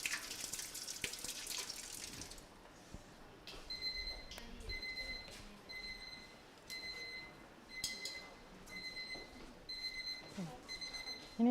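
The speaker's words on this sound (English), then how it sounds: "Ini timer banyak bagus." A kitchen timer beeps in repeated short bursts of high electronic tones while a pound cake bakes, loud and regular, after running tap water at the start, with faint kitchen clatter.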